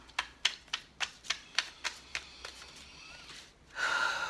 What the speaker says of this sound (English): Pulling some cards.